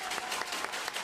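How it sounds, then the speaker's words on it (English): A baseball crowd at a Perth Heat versus Adelaide Giants game applauds steadily with dense clapping and background crowd noise, spread wide and sustained over the whole moment. "Crowd on their feet in anticipation."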